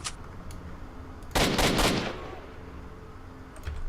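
A brief burst of rifle fire set to single shot in S.T.A.L.K.E.R.: Shadow of Chernobyl: three or four sharp, loud cracks in quick succession, ringing out and fading into quiet ambient hum.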